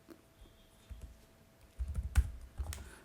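Keys clacking on a computer keyboard as the word ceiling is typed, a short run of soft taps building to a few firmer presses, close and alone at low level.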